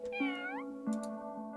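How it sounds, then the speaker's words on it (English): A cat in a cute, chill video game gives a couple of clear, close meows, one rising and bending, then a shorter second call. "pet the cat, pet the cat"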